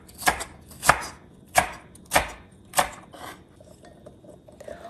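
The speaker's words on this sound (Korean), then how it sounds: "노랑 피망도 잘게 썰게요." Yellow bell pepper chopped with a knife on a cutting board, five sharp, evenly spaced chops close up, then quieter light tapping, with no talking.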